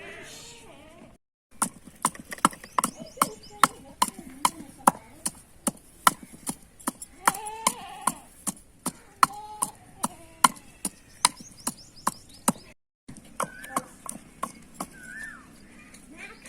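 A knife cuts a fresh lemon into pieces on a hard surface, producing a steady run of crisp, close knocks that pause briefly twice and then resume.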